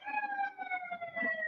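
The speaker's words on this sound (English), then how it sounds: "There's some police. I heard the siren." Police siren on a street in Chengdu, a steady wailing tone sliding slowly downward, moderately distant over faint street rumble.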